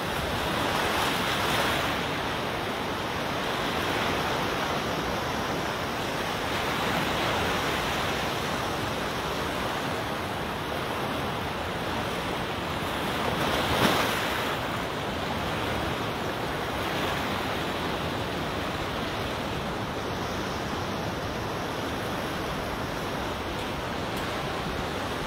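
Sea waves wash onto the beach at Martins Bay, a steady broad roar of surf with slow swells rising and falling, one slightly stronger crash partway through, and no voices.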